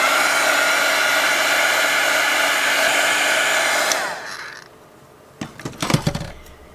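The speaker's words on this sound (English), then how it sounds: "if you're going to use a heat gun to speed up the drying process, keep it well away from the CD" Steady loud whoosh of a heat gun blowing on white paint over a CD, running continuously for about four seconds before cutting off, then a few light clicks and clatters.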